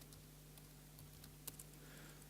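Quiet keyboard typing at a computer running Visual Studio, a few faint scattered keystrokes over a steady electrical hum in a presentation setting, with no voices.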